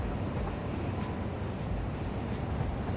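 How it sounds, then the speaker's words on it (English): A copper-hauling freight train in the factory game Satisfactory rolls past as a steady, loud rumbling drone with no distinct beats and no speech. "And there's the copper train."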